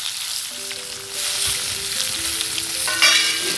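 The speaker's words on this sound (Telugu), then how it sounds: "బాగా వాడ్చినామండి నూనెలో" Garlic cloves, chopped onions and tomatoes frying in oil for Karnataka-style bassaru rasam, giving a steady close sizzle with faint stirring scrapes and a few brief tonal clinks, no talk.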